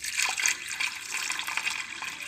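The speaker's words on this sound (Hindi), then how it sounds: "अब मैं इसमें डाल रही हूँ पानी।" Water poured from a vessel into a pan of lentils being cooked for chicken and dal cutlets, a bright splashing trickle that runs steadily for a couple of seconds without talk.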